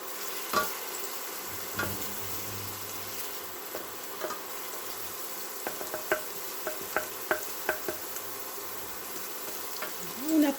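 Chopped shallot fries in a pan with a steady, soft sizzle, broken by scattered clicks and taps as the pieces are stirred, at a moderate distance with no talking.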